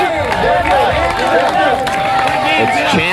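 A backyard crowd at a volleyball championship match cheering and shouting continuously, loud and close, with a commentator talking over the noise.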